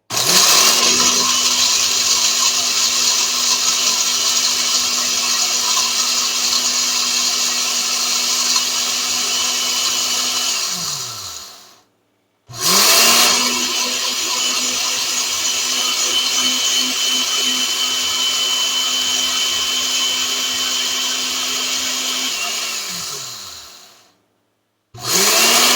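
An electric spice grinder whirs loudly and steadily while powdering homemade curry powder spices, running in two long bursts of about eleven seconds each, winding down at the end of each burst with a short silent pause between them.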